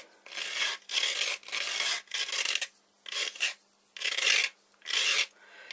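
A Perma Grip sanding block rasps back and forth over the ends of a workpiece in seven even strokes with short pauses between them, close and dry, with no talking.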